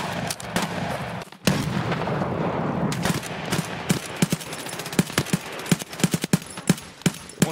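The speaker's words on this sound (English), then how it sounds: "One just shot me in my fucking head." Rapid gunfire in the video game Escape from Tarkov on the Shoreline map, a dense burst of shots followed by sharp, spaced single and double cracks, loud and close, with a dull low rumble beneath.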